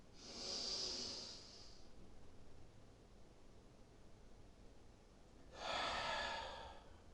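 Two deep breaths during a Pilates exercise, a long airy inhale near the start and another strong one after a quiet pause, close and breathy with no speech.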